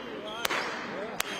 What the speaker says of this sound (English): firing, letting off fireworks